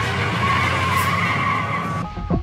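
Tires skid and squeal loudly as a hijacked car breaks away, a sustained screech of rubber with engine noise underneath, ending in a few brief knocks.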